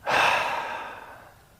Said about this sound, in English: I am breathing out.